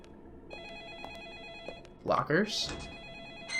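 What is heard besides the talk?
telephone ringing in the video game Deadly Premonition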